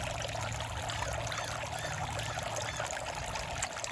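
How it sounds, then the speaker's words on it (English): A garden water feature runs as a soft, steady trickle and splash, with an even wash of falling water throughout and no talking. "You can hear my water fountain, water feature that I have in my garden"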